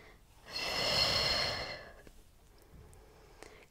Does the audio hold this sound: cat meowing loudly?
no